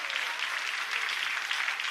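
A church congregation claps and cheers in praise during a worship service, a dense, steady wash of applause that holds evenly from start to finish with no single voice standing out.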